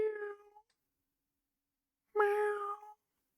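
A cat meows twice, close and clear, separated by about a second and a half of silence, the second call longer and slightly louder.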